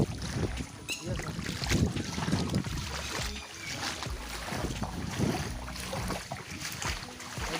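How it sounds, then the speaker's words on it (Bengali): Someone wading through floodwater near a plant nursery, feet sloshing and splashing in steady, uneven strides close by, with a rough, wind-buffeted rush over the whole stretch. "এই দেখো আমি জলের মধ্যে হাঁটতেছি"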